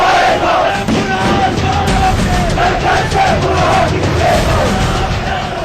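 A huge crowd fills a Kashmir street in protest after a militant's killing, many voices shouting and chanting together in loud, surging waves, with rhythmic rising yells over a dense roar.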